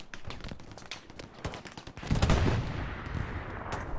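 Tank machine gun fire in a video game, rapid bursts of bullets crackling at moderate volume, with a heavier rumbling burst midway and scattered shots continuing afterward.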